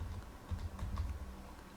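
Quick keystrokes tapped on a computer keyboard, a short run of soft, closely spaced clicks heard close up without any talk.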